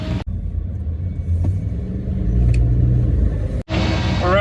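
Steady engine rumble from a car on a test drive, heard from inside the cabin, a loud, continuous low drone that rises slightly as it pulls along.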